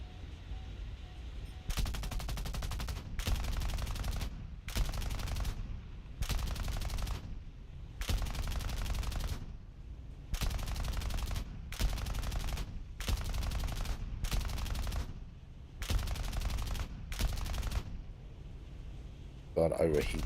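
Aircraft guns in War Thunder fire in repeated long bursts, each a second or two of rapid, buzzing automatic fire separated by short silent gaps, loud and close throughout, with a voice heard at the very end.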